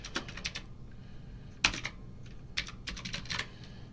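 Quiet typing on a computer keyboard: a series of light key clicks in uneven bursts, with one sharper louder keystroke midway, close and alone in a hushed room.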